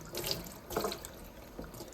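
Tap water runs steadily into a sink, a close continuous splashing stream with slight surges as it pours, no voices over it.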